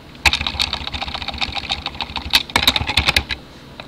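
Rapid, uneven keystrokes on a computer keyboard as text is entered in Excel, a close, steady patter with a denser flurry toward the end and no voices.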